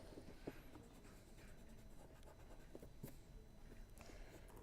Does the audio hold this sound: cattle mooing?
no